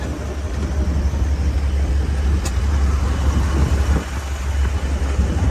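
An antique horseless carriage cruises along the road at a slightly higher pace, its engine a steady low rumble with constant road noise throughout, no voices.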